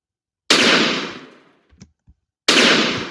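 Dynamite explodes in a video game, two loud sharp blasts about two seconds apart, each with a decaying rumble, and faint small thuds between them.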